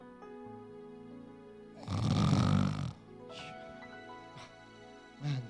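A preacher at a church conference imitates loud snoring with his voice, one long rasping snore in the middle followed by a shorter snort near the end, set against soft sustained background music.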